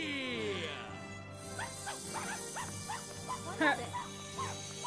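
A dog in the video game Ni No Kuni barks in a string of short, sharp yaps, some louder than others, with a voice speaking briefly over the start.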